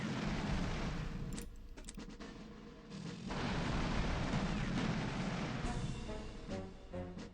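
Tank assault combat in Panzer General II: heavy booming artillery-like blasts and rumbling explosions roll through, loud and sustained with a brief lull midway, and no voices.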